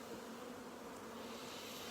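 Honeybees buzzing around an open hive during an inspection in Fairbanks: a dense, steady drone of many wings, close and continuous, without speech.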